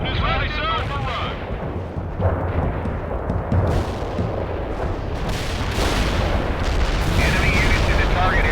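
Artillery shells exploding on target in the World in Conflict strategy game, a continuous barrage of heavy rumbling booms and blasts layered with battle noise and radio chatter throughout.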